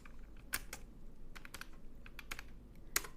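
Keys clatter on a computer keyboard as a prompt is typed for ChatGPT, a close, irregular run of light clicks with a few sharper strokes, heard alone without talk.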